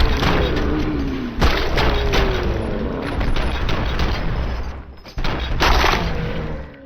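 Rapid bursts of gunfire and heavy booming impacts from the RoboCop: Rogue City video game, loud and close, with mechanical clanks between volleys and a brief lull before a final burst.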